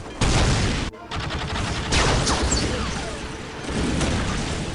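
Gunfire in the Warhammer 40,000 Dawn of War video game, loud dense volleys of battlefield shooting and blasts running almost continuously, with one brief drop near the start.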